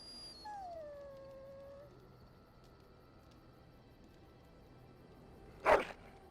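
A dog in the video game Dragon Age: Origins lets out a drawn-out, falling whine, then goes quiet. After a pause comes one short, sharp sound, all faint and with no voices.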